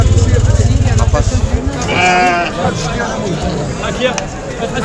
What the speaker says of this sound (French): On est entré dans la partie là où il y a les moutons